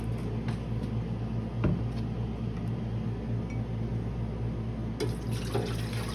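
Two cups of water pour into a bread machine pan as a steady splashing, running stream, with a low hum underneath and a few small knocks and clinks.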